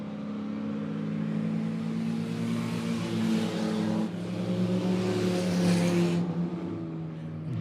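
Late model race cars roar around the dirt oval at Monett Motor Speedway, engines droning loud and steady as a pack runs close together, rising and falling as cars pass by.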